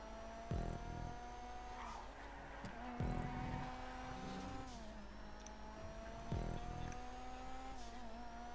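A Rapid GT Classic racing car in GTA V, with a steady engine drone shifting pitch as it drives and three sharp bursts of tire noise or impacts spaced a few seconds apart, no talking.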